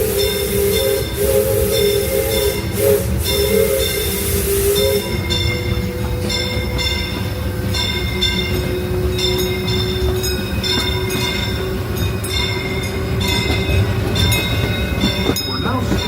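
Disneyland Railroad steam train running at night, a loud continuous rumble and rattle with steam hiss and sustained tonal whistle-like notes, close and prominent throughout.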